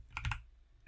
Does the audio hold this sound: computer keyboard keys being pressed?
yes